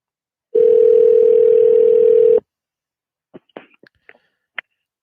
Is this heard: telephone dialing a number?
yes